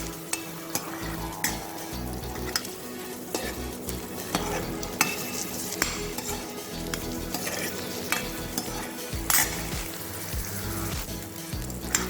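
Eggplant pieces sizzle and fry in hot oil for baghaare baingan, with constant crackling and a spoon stirring and scraping the pan in rhythmic strokes, close and loud.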